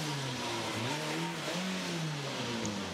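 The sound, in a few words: Peugeot 207 rally car engine revving on a special stage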